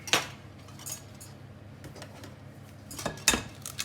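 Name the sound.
taking and cracking eggs into a bowl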